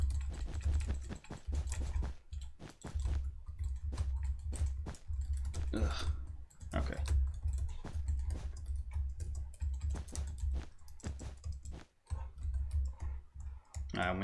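Rapid computer keyboard typing and mouse clicking during a Minecraft Hypixel Build Battle, dense irregular clicks running throughout, close and steady, with a low background hum and a brief groan and a spoken word.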